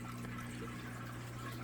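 Water runs through an aquarium plumbing manifold feeding a 600-gallon tank, a steady close rushing flow with a low hum beneath, continuous and unbroken throughout.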